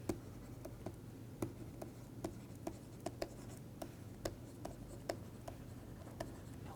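A pen writes plot axes on a surface with steady scratching and a string of light ticking strokes, close and quiet over a low background hum, with no speech.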